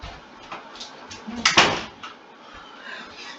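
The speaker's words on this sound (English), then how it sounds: "I have to close my door real quick" A bedroom door being closed, soft shuffles and a rubbing slide that end in a single firm thud near the middle, then quiet rustling.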